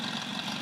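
A Puch moped engine idles in a steady, even hum with a low buzzing drone, close and continuous for a brief moment with no voices.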